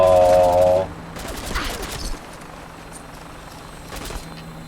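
Gunfire in a wasteland shooter game, scattered bursts of shots at moderate distance over a few seconds, following a brief tonal sound at the start.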